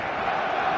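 A stadium crowd in the football video game eFootball 2026 gives off a brief, steady wall of cheering and roaring on match day, dense and sustained throughout with no single voice standing out.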